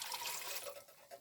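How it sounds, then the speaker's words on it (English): Tap water runs steadily into emptied vegetable cans, a soft, continuous close splashing and trickling that stays fairly quiet throughout. "just run water into the cans of the vegetables that you"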